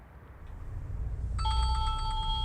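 Room noise gives way to a telephone on a busy funeral director's desk, ringing in a rapid, trilling electronic pattern that starts partway through and carries on steadily, fairly close and clear.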